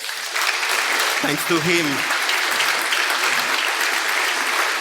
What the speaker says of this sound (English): we can make again a lot of noise for Sylvain